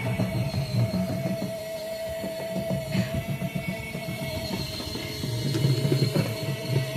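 A folding mini washing machine runs steadily with a dense mechanical churn, low rumbling drum motion and faint ticking and rattling, continuous and close, with no talk.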